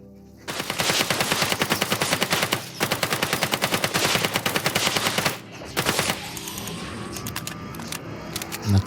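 Dense bursts of rapid automatic gunfire from a third-person shooter game, loud and close, rattling in long volleys with a brief gap, then giving way to a quieter mechanical hum and whirring like a ship starting up.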